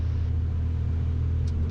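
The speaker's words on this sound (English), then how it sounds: "Cirrus 773 Golf Papa is back taxiing to the terminal" A Cirrus light aircraft taxis back toward the terminal at Telluride airport in Colorado, heard as a steady, close, deep engine drone and rumble, with no speech.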